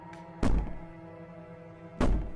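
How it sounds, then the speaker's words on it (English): Two heavy thuds on a door in the game Slay the Princess, each a loud, close bang about a second and a half apart, over a low steady hum with no talking. "Bang the door all you want."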